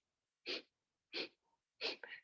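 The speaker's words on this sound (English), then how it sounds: "close your mouth and exhale through your nose" Three sharp, forceful exhalations through the nose during a breath-of-fire breathing exercise, evenly spaced, close and crisp, each a short hissing puff with quiet between.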